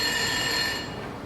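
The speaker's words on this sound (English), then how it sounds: "Don't your man hear that phone ring?" A telephone bell rings in a house, a steady ringing tone heard alone at moderate level that fades slightly toward the end.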